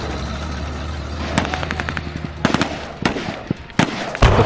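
Sharp blasts and crackling bangs stand in for a tank exploding in battle, a run of loud impacts and rapid pops rising over a steady rumble, with the heaviest hit at the end.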